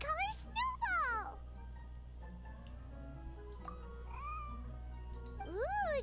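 Snowball, a white cat in the video game Genshin Impact, meows several times with rising and falling cries, clear and close over a low steady hum, with a quiet voice in between.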